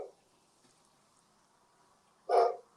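A dog gives a single short bark, faint and off in the background, after a near-silent pause.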